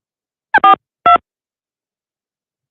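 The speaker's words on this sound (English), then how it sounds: "We're going to dial." Telephone dialing tones: three short, distinct keypad beeps in quick succession, loud and clean against silence, with a fourth starting at the very end.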